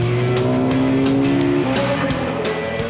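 Racing cars roar at the start of a race on a track damp from rain, with loud, continuous engines revving and whining close by and tires squealing.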